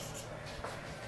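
Chalk or marker scratches across a board during a chemistry lecture on vapour pressure and equilibrium, a short continuous rubbing stroke close to the listener.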